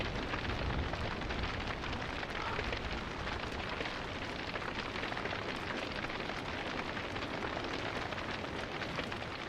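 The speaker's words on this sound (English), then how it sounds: "Fire. So much fire." A large fire burning in the game Don't Starve: a dense, continuous crackling roar like rushing flames, steady and quiet throughout.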